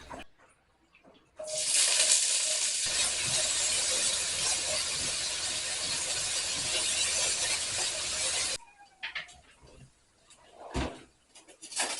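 Food frying in leftover cooking oil gives a loud, steady hiss and crackle that runs for several seconds, then cuts off, followed by quieter clatter and handling noises.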